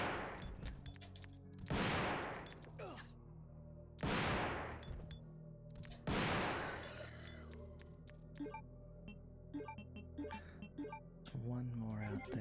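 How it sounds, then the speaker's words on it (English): A powerful shotgun blasting in Resident Evil 2 (1998), four loud, widely spaced booming shots with ringing decay, followed by quieter clinks and game sounds. "These things take a lot of shots from a very powerful shotgun"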